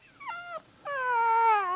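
A dog whimpers close by, a short high whine that breaks off, then a longer sustained tonal whimper, with no speech over it.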